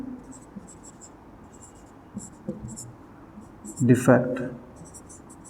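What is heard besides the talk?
writing on a board while teaching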